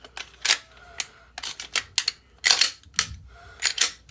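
A pistol, a Glock 19 Gen 5 or an M&P 2.0 Compact, being reassembled by hand: a quick, irregular series of sharp metallic clicks and snaps from slide and frame parts, close up, with no one talking.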